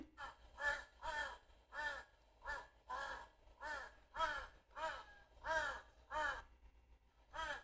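Crow cawing repeatedly, about ten harsh caws in a steady, evenly spaced rhythm, fairly clear and up close with no talking over them.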